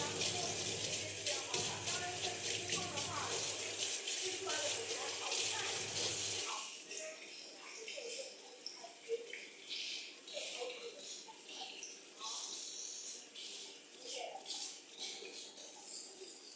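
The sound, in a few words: tap water washing in a sink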